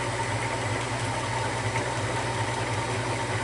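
A Maxant honey extractor spins out honey from frames, giving a steady, continuous motor hum with an even mechanical whir and faint vibration throughout, close and unbroken, with no talking.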